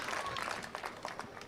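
Crowd at a national pickleball championship breaking into cheering and applause, a sustained wash of clapping and voices with a few brighter whoops rising through it, moderately loud and continuous.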